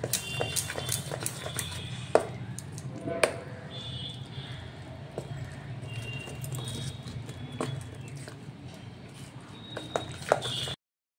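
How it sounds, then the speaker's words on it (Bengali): Lentil batter for chholar dal bora, seasoned with salt and nigella seeds, is beaten by hand in a bowl, giving a steady close run of soft knocking, slapping strokes with occasional sharper clinks, continuing for several seconds. "এটা দিয়ে এবার ভালো করে ফেটিয়ে নেব।"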